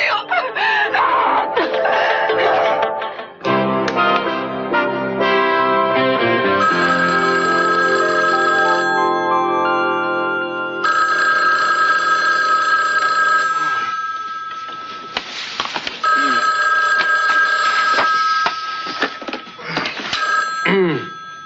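An old telephone bell rings in repeated bursts, loud and near, with stretches of layered tonal music between the rings and brief voices under the sound.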